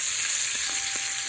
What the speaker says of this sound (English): So just cook that for 2 or 3 minutes on each side.